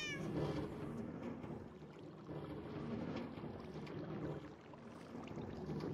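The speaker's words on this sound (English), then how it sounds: "the meows. All the meows. We have a kitty cat right here." A cat in the Minecraft video game meows repeatedly over a busy, steady game background, the calls close and fairly loud with no talking.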